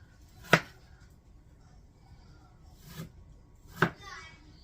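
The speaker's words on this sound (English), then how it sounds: "I'm going to cut it into a little bit smaller pieces" A knife strikes a cutting board three times, spaced apart, as it chops thawing cooked food into smaller pieces; each chop is a sharp, close knock.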